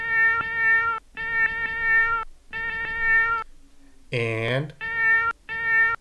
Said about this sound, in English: I'm going to select that first cat sample